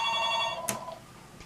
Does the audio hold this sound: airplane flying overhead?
no